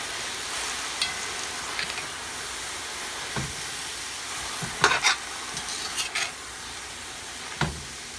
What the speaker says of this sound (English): I'm gonna incorporate all the onions, the garlic, all the spices on the bottom.